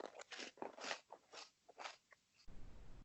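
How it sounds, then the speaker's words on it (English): Several crisp crunches of someone biting and chewing a Cheeto close to the mic, irregular bursts followed by a short softer rustle, no talking. "I'm about to eat a Cheeto, so you're probably about to hear some crunch"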